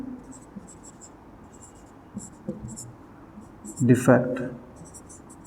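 A marker or chalk scratches across a board in short strokes during a physics lesson on lenses, while a teacher speaks over it.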